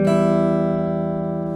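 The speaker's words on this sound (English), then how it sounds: "Then we will move on to the E minor based melody here" A single sustained acoustic guitar note or chord from an E minor based melody rings out alone, plucked once and decaying slowly over a second and a half.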